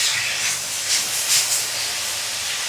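Spring onion and momo filling sizzle while being sautéed in a pan, a loud, steady, hissing fry with gentle swells and no pauses.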